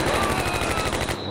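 Rapid, loud, continuous burst of machine gun fire in the Combat Mission war game, evenly pulsing rounds throughout before tapering off at the end.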